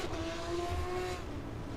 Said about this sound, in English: Why are we getting people doing donuts before the end of the race?